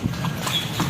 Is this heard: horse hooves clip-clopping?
yes